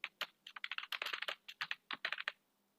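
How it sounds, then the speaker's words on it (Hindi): Quick bursts of typing on a computer keyboard, sharp close keystrokes falling in fast irregular runs with short pauses between them, no talking. "तो मैं यहाँ पे टाइपिंग थोड़ा सा कर लेता हूँ।"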